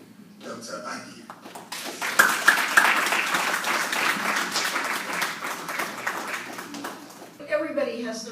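An audience applauds to welcome a speaker at a rights event, with a dense burst of clapping that swells and holds for several seconds; a voice speaks before and after it.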